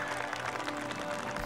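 Scattered applause from a small gallery greets a championship-winning putt at a Kent golf course, a brief, moderately loud patter of clapping hands.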